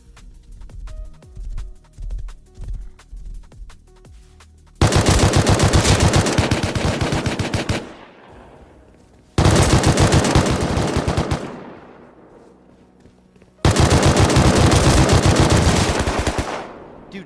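AK rifle gunfire in the console video game Rust: three long, loud bursts of rapid automatic fire, each fading into an echoing tail, after a stretch of quieter in-game movement sounds.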